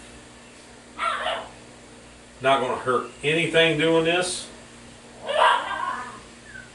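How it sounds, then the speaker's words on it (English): Two pet dogs at play indoors, giving short yips and barks in a few bursts, mixed in with someone talking nearby. "So that's my dogs playing."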